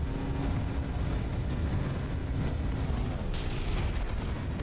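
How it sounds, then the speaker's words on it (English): Battleship artillery fire pounding in during a From the Depths naval battle, a dense continuous rumble of booms and impacts with sharper cracks breaking through, loud and sustained throughout. "Wow, so many shots coming in there."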